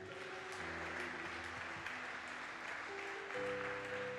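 A church congregation applauding to acclaim Jesus, a steady wash of clapping that holds for the whole stretch with a sustained organ or keyboard chord underneath.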